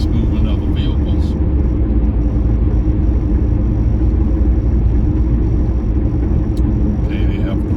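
Car traffic crossing Brooklyn's Verrazzano Bridge at about 50 mph over grooved concrete: a loud, steady, close road rumble with whirring tires that continues throughout.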